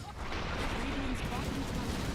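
Gyrocopter's Flak Cannon fires in Dota 2 during a professional esports match, producing dense, continuous rapid gunfire-like bursts under steady commentary.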